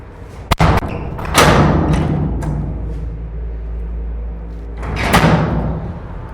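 A steel fire shelter door being worked from inside: a sharp thump as the heavy door closes, then metallic clunks and scrapes as the handle turns, with a second bang near the end, close and reverberant.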